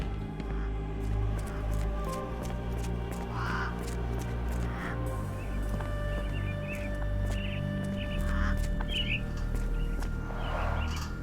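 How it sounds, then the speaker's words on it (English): Caged mynah birds in the video game Sherlock Holmes The Awakened, scattered squawks and calls over a low steady hum of room ambience, with occasional clicks and shuffling. "Minor birds, if I'm not mistaken. Beautiful creatures. Sad that they're caged here."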